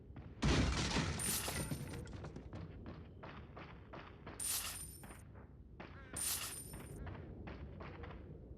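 Gunfire in the video game Resident Evil 4, a rapid series of sharp shots with clattering mechanical sounds and bright metallic pickup chimes recurring between bursts.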